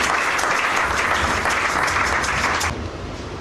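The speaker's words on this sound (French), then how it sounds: "Acclamez le Seigneur pour ça." A church congregation claps in steady, dense applause that stays loud for nearly three seconds, then fades toward the end.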